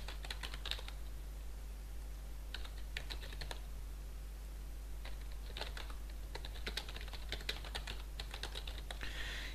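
Keys on a computer keyboard clack in quick bursts as text is entered into a web form, bursts separated by short pauses, close and steady over a low constant hum.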